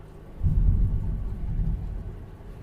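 Low thunder from a storm rumbles outside, a single deep roll swelling in after a moment and fading slowly, fairly faint and heard alone.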